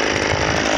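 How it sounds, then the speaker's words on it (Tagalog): Grass cutter cutting grass in a farm field, a loud continuous buzzing engine drone, close and unbroken throughout. "Ayan, grass cutter para mas madali"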